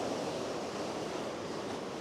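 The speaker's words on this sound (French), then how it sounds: "Bon là, il y a beaucoup de bruit, il y a des vagues" Ocean surf breaking close by, a steady, dense wash of waves with wind rumble over the microphone, loud and continuous with no voices.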